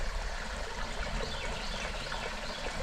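Water washing out through a broken, separated culvert pipe, a steady broadband rush and trickle that holds an even, moderate level throughout with no pauses.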